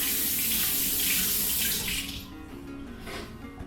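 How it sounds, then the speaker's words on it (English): Tap water runs into a sink while hands are rinsed, a close splashing hiss that is louder at first, then drops to a softer, steady trickle once the hands leave the stream. "let me get my hands rinsed"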